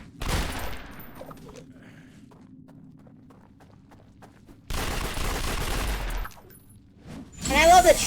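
Rapid bursts of gunfire from the Shoot Wildly power in the City of Heroes video game, a sharp volley at the start and a longer sustained barrage later, loud and close, separated by a quieter stretch.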